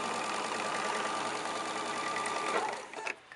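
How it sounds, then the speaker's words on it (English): A sewing machine stitching a quilt block seam runs at a fast, steady whirring clatter for about three seconds, then slows and stops with a couple of mechanical clicks. "This is my third seam."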